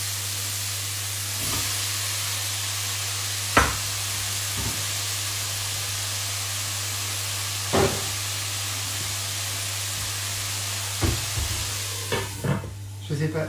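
Mushrooms and broccolini sizzle in a pan over a lit stove burner, giving a steady close hiss with a low hum underneath and occasional utensil clicks and stirring knocks, with no voices.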